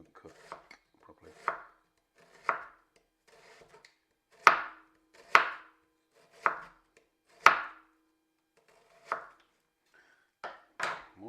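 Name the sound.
chopping ingredients thinly with a knife for pizza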